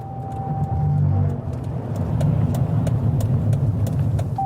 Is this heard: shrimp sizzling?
no